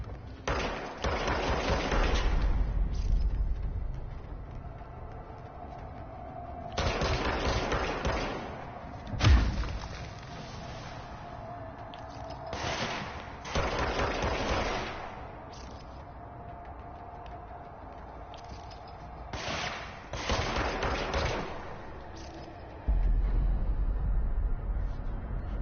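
Pistol fire from the Doom pistol in the video game Control: loud, heavy bursts of shots come in several clusters with short pauses between them, and a deep booming low end sits under each volley.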